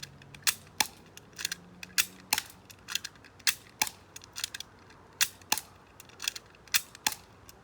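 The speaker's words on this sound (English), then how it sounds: "You just always have to cock it back like this every time and fire" An airsoft HK P30 pistol is cocked and fired again and again, each shot a sharp, close snap mixed with mechanical slide clicks. They come in an irregular, steady series of about fifteen, with no talking between them.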